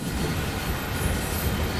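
In the Train Sim World 5 simulator, a train rolls over a track switch, giving a loud continuous rumble of wheels on rail with faint high squeal, close and steady, no talk.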